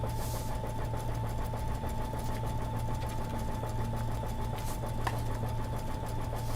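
Embroidery machine stitching a satin stitch monogram onto a tea towel, a steady fast mechanical hum and needle chatter running continuously at moderate level with no talking.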